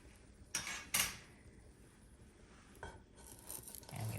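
Food flipped over in a pan with a heart-shaped cutter: two quick metallic clanks of utensil against pan, then softer scraping and a later clink, close and fairly quiet, without talk.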